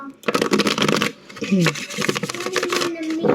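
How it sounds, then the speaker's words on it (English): Tarot cards being shuffled by hand, a rapid riffling and flapping run that pauses briefly and resumes, close and fairly loud, mixed with a faint tonal background sound. "I've been sitting here shuffling the cards for about 10 minutes."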